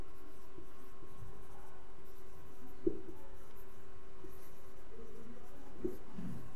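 A pen scratches steadily across paper while writing an accounting journal narration; the faint, continuous scribbling comes from close by, with a couple of small taps.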